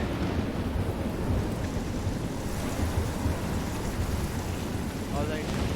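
Heavy storm in the game Life is Strange, with a dense roar of wind, rain and crashing waves rumbling steadily and loudly throughout, no pauses.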